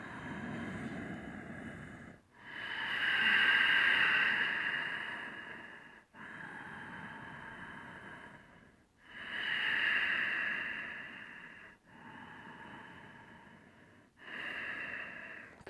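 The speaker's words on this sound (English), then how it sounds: "3 more breaths." Deep, slow yoga breathing while holding bridge pose in a morning class: long, audible inhales and exhales alternating at an even pace, close and clear, with no talking.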